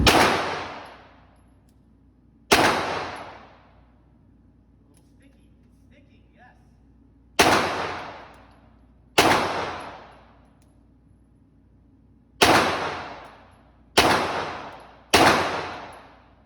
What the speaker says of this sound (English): So we're going to go ahead and do some shooting